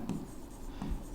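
Chalk or marker strokes on a board during a maths lesson on mensuration, a few short scratchy bursts near the start and again toward the end over a low room hum, with no talking.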